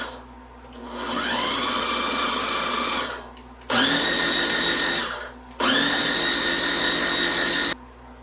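Electric mixer whirring through homemade French dressing made with mustard and smoked Hungarian paprika, running in three steady bursts of several seconds each, separated by short pauses.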